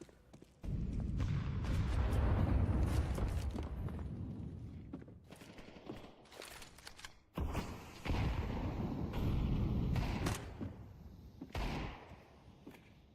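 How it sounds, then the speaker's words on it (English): Desert Eagle pistols firing in a Counter-Strike match, heard as a run of sharp, fairly loud shots and booms bunched into two bursts with short gaps of quieter game ambience between them. "And the Deagles play for Apogee, part of a force buy most definitely"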